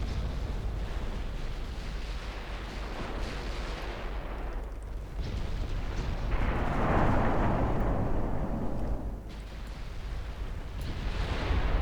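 Warship main guns firing and landing hits in the naval game Ultimate Admiral Dreadnoughts, targeting the Danzig: a dense, continuous roar of booming blasts and rumbling impacts that swells in the middle, with no talking.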